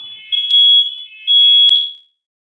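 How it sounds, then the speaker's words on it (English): Home smoke alarms sounding at a fire chief's own residence: a loud, shrill, steady high-pitched electronic tone that swells twice, with sharp clicks, then cuts off abruptly, with no one talking. "For some reason, my alarms are going off."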